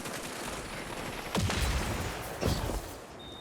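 Two heavy shots from a gun in Destiny 2 ring out about a second apart over a steady hum of game ambience, each a sharp loud crack with a brief tail.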